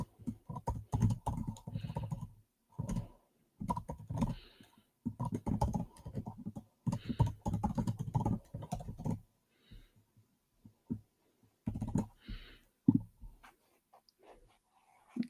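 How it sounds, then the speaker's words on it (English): Typing on a computer keyboard in rapid bursts of clattering keystrokes separated by short pauses, close and steady throughout, with no voices. "let me go ahead and type this into the comment section"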